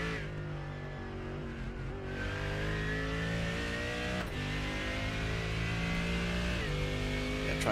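A GT3 race car engine heard on board in a simulated race at Imola, droning steadily at high revs with gear-shift steps in pitch as it accelerates, loud and continuous with no talk over it.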